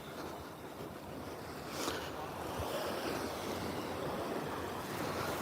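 Ocean waves wash onto a beach, a continuous broad hiss of surf with a gentle swell building midway, mixed with wind noise on the microphone.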